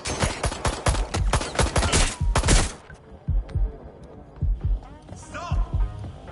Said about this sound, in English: Suspect's shooting!